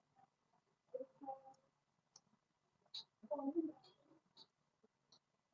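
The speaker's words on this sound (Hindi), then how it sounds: "देखो मैं कहीं पे भी क्लिक कर रहा हूँ" A computer mouse clicks sharply several times in an irregular pattern, close and crisp, between bursts of someone speaking in Hindi during a spreadsheet lesson.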